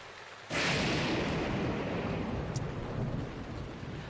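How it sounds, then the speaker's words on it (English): A thunderclap bursts suddenly in a Zelda video game storm, then rolls into a loud, sustained rumble with rain hiss, alone and close, slowly easing off. "this thing is just straight up dodging lightning strikes"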